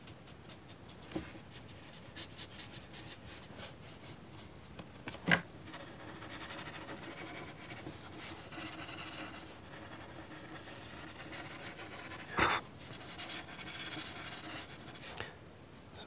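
Charcoal pencil rubbing and scratching across paper while drawing around an apple shape in a simple still life, a close, quiet, continuous scratchy hiss with a few sharper taps, no talking.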